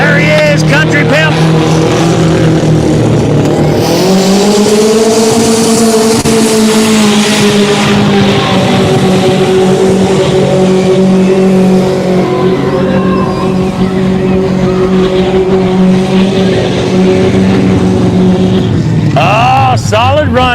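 A big mud truck roars through deep mud at a mudbog, its engine droning loud and steady with rising and falling pitch for a long stretch while an announcer talks over it.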